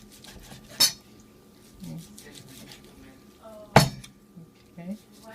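A knife chops green onions on a cutting board with two sharp, separate cuts a few seconds apart. Light clinks of kitchenware and faint voices sound in between.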